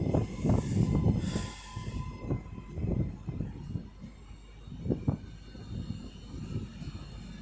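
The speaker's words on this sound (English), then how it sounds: "So now departing is 331108 with a northern service to Blackpool North via Bolton." Class 331 Northern electric train 331108 pulling out of Manchester Airport station, a low rumble with rhythmic wheel clunks fading as it moves off, a brief high tone early on.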